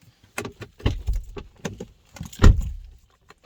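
Car keys jangle and clink in several quick bursts as a car is switched off, close and clear, with near silence between the rattles.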